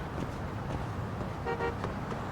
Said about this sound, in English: Are they honking at me like they're the ones that just didn't hit me?